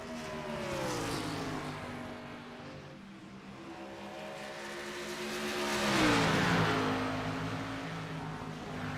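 A NASCAR race car engine at Dover Motor Speedway drones at high revs, falling slightly and then rising again as it shifts. A steady, fairly distant roar with no talk.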